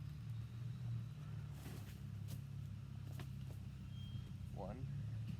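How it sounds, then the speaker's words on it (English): A mail truck rumbling past in the background, a steady low engine drone that lasts the whole time beneath a few soft knocks and clicks close by. "There's a mail truck in the background, sorry."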